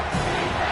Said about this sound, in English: this crowd is bringing down the house